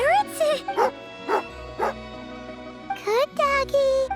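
Tagarin, a dog in Genshin Impact, lets out a string of short bright yips and barks with rising and falling pitch, close and loud, over a faint game background.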